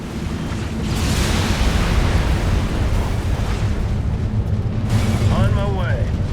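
Bombing run explosions in the real-time strategy game Halo Wars form a continuous loud, booming rumble with overlapping blasts, and game voices talk over it.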